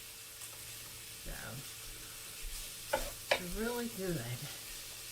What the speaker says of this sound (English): It don't take but a few minutes to get this all browned up.